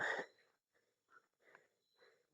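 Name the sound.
heavy panting breaths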